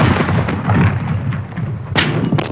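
Artillery and explosions pound Syrian positions on the Golan frontier at dawn, a continuous rolling rumble of blasts with a sharp, loud crack near the end.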